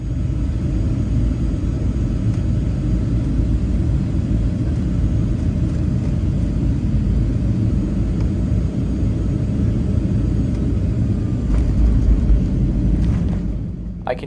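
Airliner touching down at Quito's airport, which sits below the surrounding terrain: a loud, steady cabin roar of engine and wind rumble holding for most of the stretch, easing slightly near the end.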